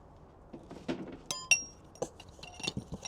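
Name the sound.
glass items clinking as they are handled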